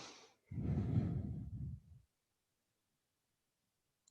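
A single slow, soft exhale from a person relaxing during a guided tapping session, breathy and close, lasting about a second and a half before fading into silence.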